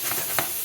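Mushrooms browning in a pan, a soft steady sizzle with a couple of faint stirring scrapes, quiet and close.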